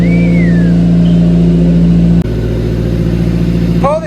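A Subaru Sambar mini truck on new wide wheels and tires, its small engine droning loudly and steadily close by, the pitch shifting midway as it pulls out, with a voice briefly exclaiming near the end.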